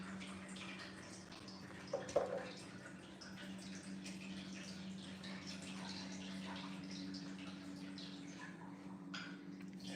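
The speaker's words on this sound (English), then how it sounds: "the water fountain always turns itself on because it's motion sensitive" Faint, steady trickle of an indoor motion-sensitive water fountain running, with a low hum beneath and a small splash or clink early on.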